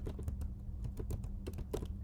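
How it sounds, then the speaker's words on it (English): Rapid, close keystrokes clatter on a computer keyboard as a web address is typed out, a steady run of crisp clicks at an uneven typing rhythm, alone with no voices. "we're going to type airbnb.com/robots.txt"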